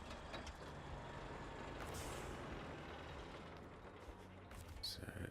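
A big truck in SnowRunner, heard as a steady heavy engine drone with a hiss like an air brake and some brief clanks near the end.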